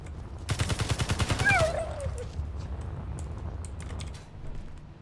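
A rapid burst of automatic gunfire rattles out in the Space Engineers video game for about a second, loud and evenly spaced, then gives way to softer clicks and background noise.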